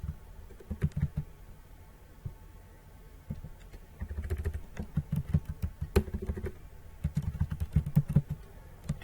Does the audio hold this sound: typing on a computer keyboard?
yes